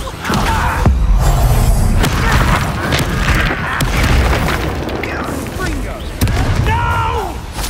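Confringo blasting curse explosions in the Hogwarts Legacy video game, a run of loud booming blasts and thuds within a dense battle mix, with a voice calling out over the combat.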